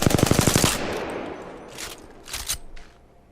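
A burst of rapid automatic gunfire in a video game training room, a tight string of close, loud shots lasting under a second, followed by scattered lighter impacts and clicks.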